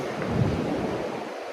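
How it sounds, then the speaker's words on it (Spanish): Ocean surf rolls onto Reynisfjara black sand beach in Iceland, a deep, continuous wave rumble with wind buffeting the microphone, no voices. "Miren esa ola."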